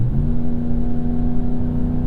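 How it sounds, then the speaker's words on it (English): A 2026 Ram 1500 Big Horn V8 pickup engine revs steadily while accelerating under tow, a continuous loud mid-pitched drone with a strong harmonic hum and no talk. "the engine's got to kind of sing out a little bit"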